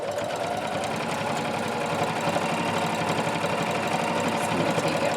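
Sewing machine stitching steadily around the edge of a fabric hot pad, a continuous close mechanical whirr with rapid needle rhythm and no pauses.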